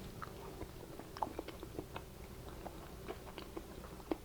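Someone eats a sample of nacho cheese up close, with soft, quiet chewing and scattered sharp little bites and crunches in an irregular rhythm.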